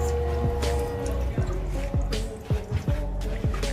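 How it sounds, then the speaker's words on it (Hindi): Water gushing in a steady stream out of an LPG gas cylinder tank, a continuous splashing trickle with wet drips, heard close and loud with no talk over it. "ये जो पानी निकल रहा है ना टाकी के अंदर से निकल रहा है, ये देखो कितना धार गिर रहा है"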